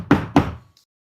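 Two firm knocks on a door, close and loud, evenly spaced about a quarter second apart, followed by silence.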